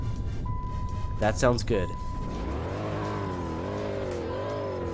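A 2008 Dodge Charger engine cranks and catches, then settles into a steady, rumbling idle with a slight rise and fall, close by, while a person speaks briefly over the start.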